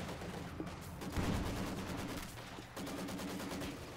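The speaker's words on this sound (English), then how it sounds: "Maxim machine gun gets cleared out, mortar shots continue to fly" Machine gun and mortar fire in a 3v3 Company of Heroes 2 battle on the Angermuende map, steady rattling bursts with heavier thuds mixed in, sustained and fairly loud throughout with no talk.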